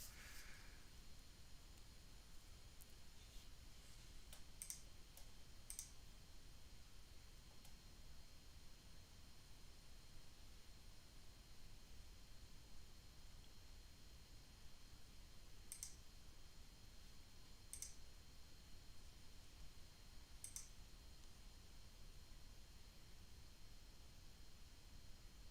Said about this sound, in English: just clicking around a few things on the other support sections that I work on here